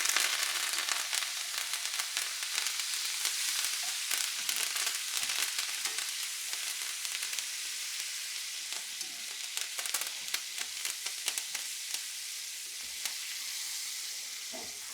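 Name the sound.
steak sizzling in pan with fresh thyme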